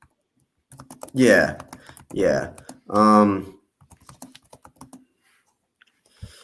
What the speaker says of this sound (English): I'm typing you something